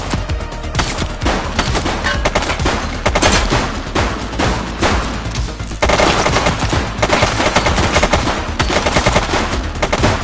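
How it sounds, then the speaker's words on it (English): Dense bursts of rapid automatic gunfire from a police video game on PS5 crackle loudly and almost continuously, with sustained volleys throughout and no talking. "Shots fired!"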